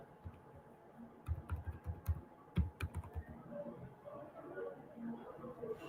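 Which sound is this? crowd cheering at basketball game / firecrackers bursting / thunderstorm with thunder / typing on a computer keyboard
typing on a computer keyboard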